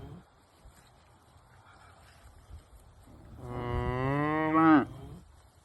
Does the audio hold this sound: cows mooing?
yes